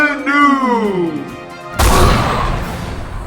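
A cannon blast sound effect: a sudden loud boom with a broad rumbling burst that fades slowly, following a stretch of voice-like tonal sweeps.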